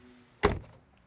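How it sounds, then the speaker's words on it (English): A single solid thunk as the frameless door of a Mazda 6e / EZ-6 electric car shuts, close and brief against near silence, with no talking. "and door closing sound."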